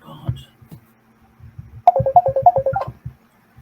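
A phone linked to a computer rings with a repeating melodic electronic ringtone, a rapid run of bright tone pulses played loud and close, preceded by a few soft knocks and faint background noise.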